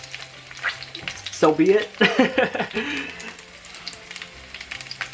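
Salmon pan-searing in lemon garlic butter crackles and sizzles steadily, with bursts of louder spitting and stirring scrapes in the middle, while someone talks briefly over it.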